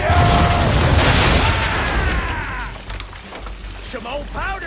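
Ship cannons firing during a naval battle in the video game Assassin's Creed 3, heavy booming blasts and crackling debris with rushing noise, loud and close, mixed with game voices shouting.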